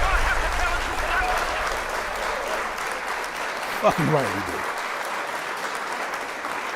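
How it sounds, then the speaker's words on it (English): A round of applause plays out on a hip hop talk show as a fairly soft, steady patter of clapping beneath a brief spoken remark. "Round of applause."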